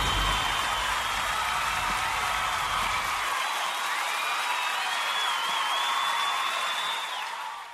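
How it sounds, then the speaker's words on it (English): Steady crowd applause with scattered cheers and whoops, a dense continuous wash of clapping that holds evenly throughout. "hit the applause button."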